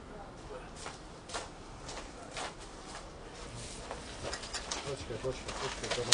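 Pigeons coo around a public campsite, soft and fairly distant, under a steady hiss of background noise with faint voices and scattered rustles throughout.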